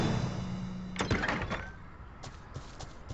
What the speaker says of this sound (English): The doors just open